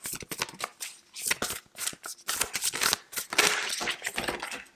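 Tarot cards being shuffled by hand, a rapid run of crisp riffling and slapping bursts with brief pauses, close and fairly loud, no talk over it.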